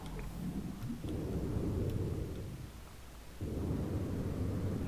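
Low, rolling thunder of a storm in the video game No Man's Sky, a steady rumble that swells and eases across the clip with a soft wash of rain-like noise on top, no one speaking.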